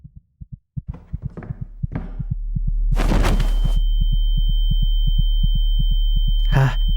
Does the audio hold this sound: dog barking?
no